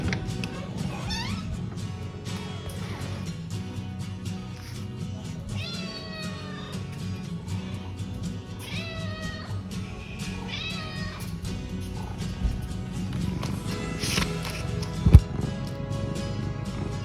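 A pet cat meowing to be fed early in the morning, several rising and falling meows spread across the clip over a low background hum, with a brief clatter near the end.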